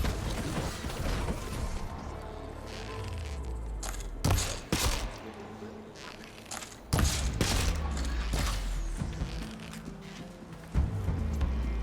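Sustained gunfire in the video game Horizon Forbidden West: dense, continuous bursts of shots and crashing impacts with heavy booming thumps throughout, loud and busy, no talk.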